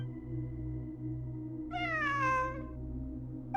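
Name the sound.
cat meowing in Genshin Impact video game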